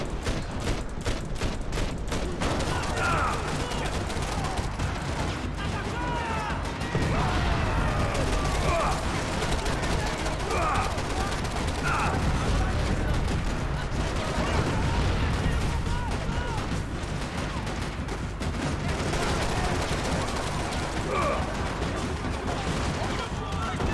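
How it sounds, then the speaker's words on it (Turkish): Rapid gunfire from Max Payne 3, bursts of shots rattling almost continuously with occasional heavier blasts, loud and dense, with someone talking intermittently underneath. "Biri çatır çutur vuruyor ya."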